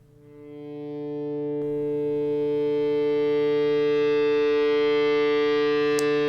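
A guitar's D string kept ringing by a string-vibrating device, a sustained harmonic drone that swells over the first second or two and then holds steady and loud, with a faint tap partway through and a click near the end.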